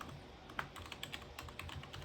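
Rapid keystrokes on a computer keyboard as a networking command is entered, a close, crisp run of uneven clicks with a few louder taps and no talking.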